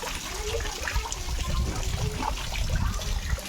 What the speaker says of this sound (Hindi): ये देखिए ये यहीं पे नहा रहे हैं।